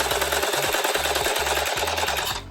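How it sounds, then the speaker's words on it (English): A sewing machine stitches fabric in a fast, continuous mechanical chatter with a rhythmic pulsing beat, loud and close, running for a couple of seconds before stopping abruptly. "and then continue sewing to the end"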